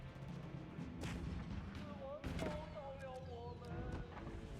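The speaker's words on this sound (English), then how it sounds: "He can't afford to let that bombard just keep firing away." A bombard cannon in a strategy video game fires in heavy booming blasts, two or three sharp reports with echoing tails, heard under a commentator talking.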